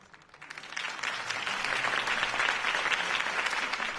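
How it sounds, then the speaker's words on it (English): Sustained applause from a crowd following a mayoral campaign speech in an animated Batman episode, building quickly within the first second and holding steady and dense throughout, with no speech over it. "could have heard that applause"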